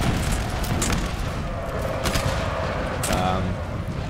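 Musket volleys crackle in a Napoleonic Total War battle, with scattered gunshots and dense massed fire running steadily at moderate volume throughout.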